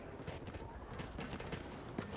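Player character's running footsteps in Battlefield 6, a rapid, steady patter of soft thuds that sounds loud and close, layered over busy game ambience.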